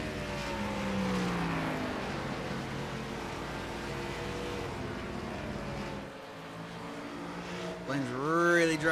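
NASCAR Gen 4 race car engines in the iRacing video game howl at high revs, several cars droning together with pitch sweeps as they pass, rising sharply near the end.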